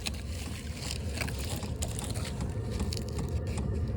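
A diesel heater running in a pickup truck bed makes a steady, low mechanical rumble and whir with faint ticking, close by and continuous throughout.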